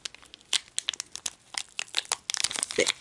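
Plastic wrapping on a Pokémon Sword and Shield trading card box torn and crinkled open in close, sharp, irregular bursts, with no talking.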